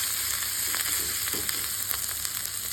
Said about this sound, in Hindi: अदरक को हम कुछ सेकेंड भून लेंगे ताकि इनका कच्चापन निकल जाए।